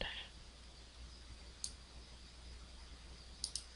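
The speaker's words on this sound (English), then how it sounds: "If I click on the text itself, click on the right side" A few crisp computer mouse clicks while editing video text, one single click and then a quick double click, close and sharp over a quiet room hum.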